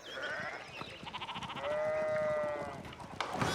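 Sheep in the video game Pentiment bleat in a few wavering, drawn-out calls, moderately close, with faint game ambience underneath.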